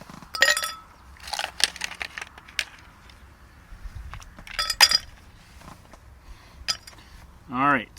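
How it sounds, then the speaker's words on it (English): Ice cubes clink and rattle in short bright bursts as they are dropped into a hurricane glass for a cocktail, several separate clusters of sharp taps in a quiet room. "We'll just put a little ice in there."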